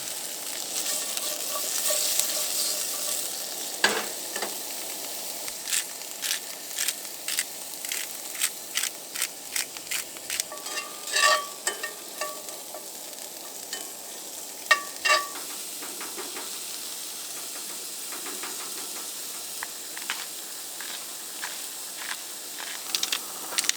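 Steak frying in a pan, seasoned with salt, pepper and Italian seasoning, gives a constant close sizzle and hiss, broken by a run of sharp clicks and taps from utensils. Nobody speaks.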